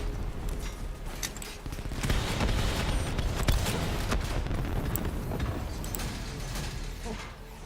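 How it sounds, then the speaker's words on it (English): Heavy mechanical thumping from a combat mech in Call of Duty: Black Ops III, a dense continuous clatter of grinding mechanisms and rapid impacts at steady loudness, with no talk over it. "I heard a lot of thumping. Did you have a mech down there to take out?"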